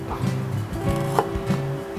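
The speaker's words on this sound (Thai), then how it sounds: "มาหั่นเป็นแผ่นบางๆ ก่อนนะครับ" A knife cutting a small knob of ginger into thin slices on a cutting board, heard as a steady series of close, soft, rhythmic chops.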